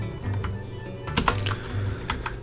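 Keys tapped on a computer keyboard while entering banner text in Photoshop, a steady run of close, soft clicks with a few sharper strokes, heard alone over a low hum.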